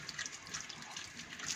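Cold tap water runs steadily into a sink while red mullet are scaled under the stream, a continuous soft splashing hiss with no talk.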